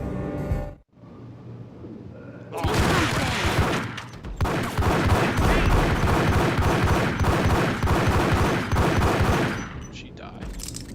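Gunfire in the Max Payne video game: a single loud shot, then a long sustained burst of rapid automatic fire, close and dense, that stops abruptly near the end.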